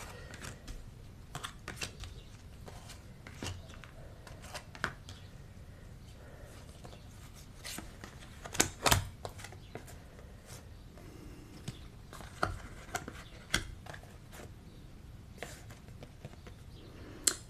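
Oracle cards handled and laid out on a table, with soft scattered taps, slides and shuffling clicks, a few sharper snaps, quiet and close.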